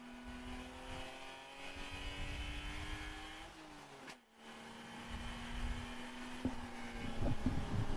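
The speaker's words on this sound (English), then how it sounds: "Nice crisp rev matches on those downshifts." A race car engine in an endurance race drones steadily from inside the car, its pitch rising and falling through downshifts and dropping out briefly before climbing back.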